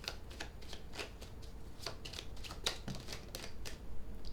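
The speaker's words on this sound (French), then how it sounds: "Les cartes sautent, hein." Tarot cards are shuffled close up in a quiet room, a steady series of soft riffling flicks and slaps repeating at a brisk, even rhythm.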